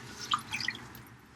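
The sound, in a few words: rinsing salted cabbage for kimchi with water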